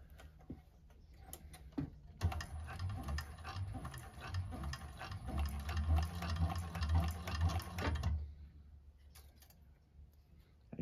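A 1341 cylinder arm sewing machine stitches through thick bag layers in a run of about six seconds, a close rapid mechanical ticking and thumping that starts and stops abruptly, with quiet stretches before and after.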